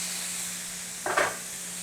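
Meat cooking in a covered skillet, a faint steady sizzle and hiss with a brief louder burst of crackling and spatter midway.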